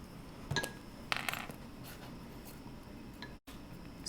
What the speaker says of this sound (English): I'm going to draw on it with a Sharpie.